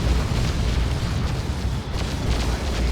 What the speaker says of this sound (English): they just exploded